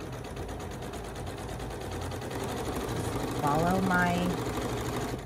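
A sewing machine running steadily while stitching a row, a fast mechanical whir and clatter that grows louder partway through, with a person talking over it.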